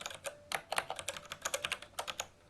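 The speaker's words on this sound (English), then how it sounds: "The moment I start typing" Quick bursts of keystrokes on a computer keyboard, close and crisp, in an irregular typing rhythm with short pauses and no talking.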